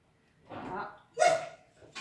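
A dog barks twice in a kitchen where a hazelnut and blueberry cake is being made, two short distinct yelps a little way off, fairly clear, with no one talking over them.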